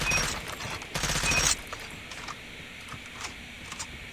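Type 25 rifle in Call of Duty Mobile firing rapid automatic bursts, loud and dense for about a second and a half, then dropping to faint game ambience with scattered distant pops.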